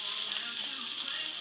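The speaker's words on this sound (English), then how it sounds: "Hash browns are cooking." Hash browns frying in a pan for a breakfast dish, giving a steady, close sizzle that holds at an even level throughout with no break.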